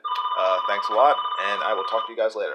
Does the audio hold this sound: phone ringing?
yes